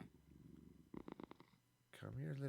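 A cat purring in the game Minecraft, a soft low purr at the start, a short burst of rhythmic purring, then a voice speaking over the end.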